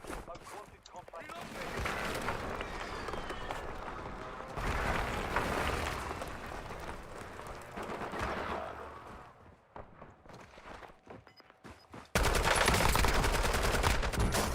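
Heavy gunfire in a Warzone battle royale match, dense sustained bursts and rapid shots roaring loud and close for long stretches, with a sudden louder barrage near the end and brief voices among the shooting.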